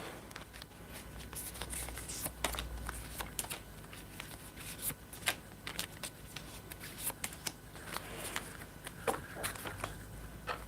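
Tarot cards are shuffled and drawn in quiet, irregular bursts of crisp riffling and soft slaps, close and fairly faint, with no one speaking.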